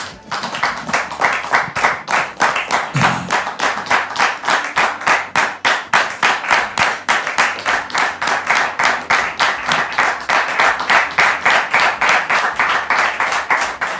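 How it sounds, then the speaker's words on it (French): An audience claps in steady rhythmic unison, loud and sustained throughout with no voices. "Public, merci de recevoir l'époux de Dame Mélissa sous vos applaudissements, s'il vous plaît"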